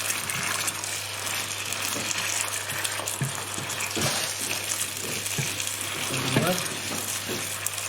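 Tomatoes sizzle steadily in hot oil in a pan while being cooked down into a masala sauce for chicken karahi, with intermittent scraping and clacking from stirring, close and continuous.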